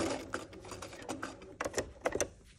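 A sewing machine stitches binding around curved fabric edges in short, uneven bursts of mechanical whirring and needle clatter, close by, with brief stops between runs as the fabric is lifted and readjusted.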